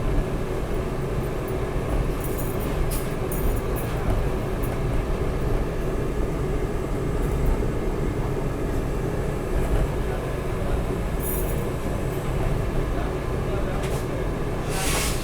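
A Howrah–Kamakhya Vande Bharat sleeper express with many sleeper coaches overtakes, its steady rail rumble and passing wagons filling the scene continuously, with voices talking over the train noise throughout.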